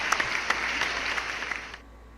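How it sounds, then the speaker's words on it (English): Applause from a live studio audience on a basketball talk show, a dense burst of clapping with a few sharper claps that fades out before the end. "Clap it up for that."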